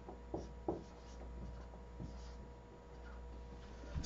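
Faint squeaks and rubbing strokes of a marker drawing on a whiteboard, short irregular strokes spaced across a quiet room with a steady low hum underneath, no talking.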